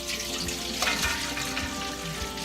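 Pickle juice pours steadily out of a jar into a colander, a continuous splashing trickle of liquid with small drips and gurgles.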